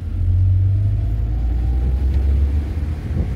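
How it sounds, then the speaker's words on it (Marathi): A car engine holds a loud, close, low rumble that dips slightly and lifts again, heard from inside the moving vehicle without talk. "आता 1 ते 5 आणि 5 ते 1 गिअर तुम्हाला अप शिफ्ट आणि डाऊन शिफ्ट करून दाखवतो"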